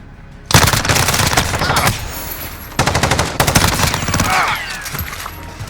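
Rapid automatic gunfire from a gun in the video game Modern Warfare (2019) rattles in loud, dense bursts, with a short lull between volleys, close and continuous with no talking.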